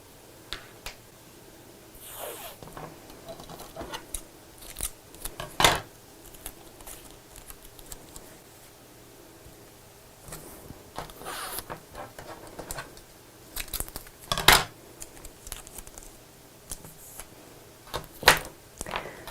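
Fabric scissors snip through material for a simple sewn Christmas stocking, a steady run of small crisp cuts with a few sharper snips standing out, close and alone.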